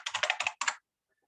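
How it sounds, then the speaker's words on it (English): Fast typing on a computer keyboard during a CentOS homelab setup: a quick burst of about eight crisp, close keystrokes, then a brief pause and two more before silence. "Wow, I'm typing badly this morning."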